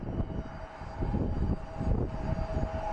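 Steady roar of a United airliner's jet engines as it takes off from Phoenix Sky Harbor International Airport, a broad sustained rumble heard from a distance that holds throughout with slight swells.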